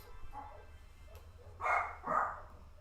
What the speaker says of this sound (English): Neighborhood dog's going crazy.